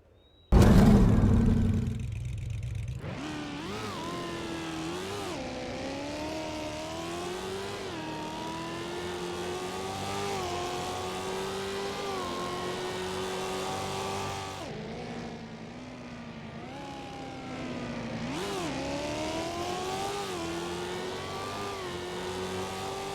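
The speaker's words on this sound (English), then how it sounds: "it features an entirely new engine, which I will now go ahead and showcase right here" The Orion car in Roblox Jailbreak revs its engine after a short loud burst, then holds a steady, close, buzzing engine drone that rises and dips in pitch, with two brief throttle lifts and re-climbs.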